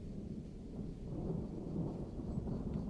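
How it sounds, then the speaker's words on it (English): Distant thunder rumbles low and continuous, a soft rolling boom that swells slightly midway and carries no sharp crack. "You got struck by lightning in a cave."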